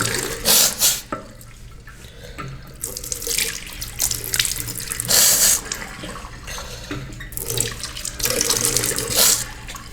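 Tap water runs into a sink during wudu ablution, a steady flow broken by repeated splashes and gushes as hands scoop and cup the water, with no voices.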